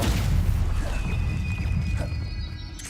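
A loud, whooshing burst of the Incendio fire spell in Hogwarts Legacy, a broad roaring blast that fades over a few seconds with faint tonal game effects trailing, no voices.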